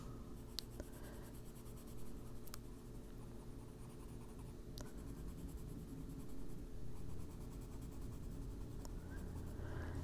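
Colored pencil in Van Dyke brown scratching steadily across paper, shading stripes on a cupcake liner in an adult coloring page, a close, continuous dry rasp with a few faint taps.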